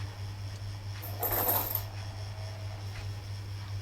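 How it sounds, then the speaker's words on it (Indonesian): Several coins drop into a mass container during a physics lab experiment, a short clattering burst of metallic clinks near the middle, alone over a steady low background hum. "memasukkan 4 koin di dalam massa kedua menjadi 12 gram"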